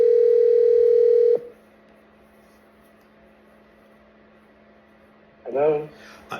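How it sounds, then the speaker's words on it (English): A steady telephone dial tone hums loudly for over a second, then cuts off, followed by near-silence with a faint low hum and a short burst of ringback or line noise at the end. "I decided to make another phone call."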